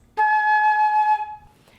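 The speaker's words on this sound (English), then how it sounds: "Go ahead and take a moment to play your A flat." Flute holding a single sustained A flat for about a second, a steady bright tone that cuts off cleanly, close and alone.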